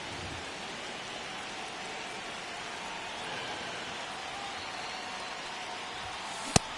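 Steady rain pouring in a baseball video game, MLB The Show 25, a constant broadband hiss filling the whole stretch at even level, with a single sharp click near the end.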